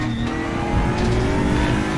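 Aquila CR1 prototype race car in RaceRoom Racing Experience on the Portimao circuit, its engine droning loud and steady under load, close and continuous with a brief surge mid-way.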